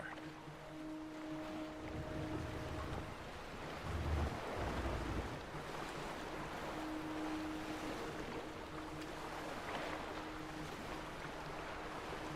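Ocean waves wash and roll around a boat at sea in a medieval battle game, a steady low surge with wind noise, a mild swell midway and faint droning tones.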